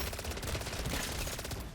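Rapid automatic weapon fire in the MW3 Zombies video game, a dense unbroken stream of loud overlapping shots with crackling impacts throughout, no pause and no talking.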